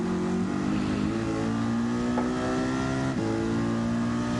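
A race car engine in a racing video game holds a loud, steady high rev, a sustained buzzing drone with slight pitch shifts and no pauses.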